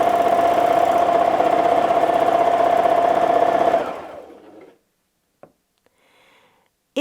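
Sewing machine stitching free-motion quilting, tracing a small stem and half-round leaf, runs as a steady loud mechanical hum for nearly four seconds, then stops and leaves quiet with a couple of faint clicks.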